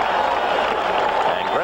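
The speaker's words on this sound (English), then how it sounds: "Greg Walker receiving the plaudits of the crowd" Baseball crowd applauding Greg Walker at a White Sox game against the Brewers, a steady continuous wash of clapping and cheering for under two seconds, with crowd noise filling the stadium.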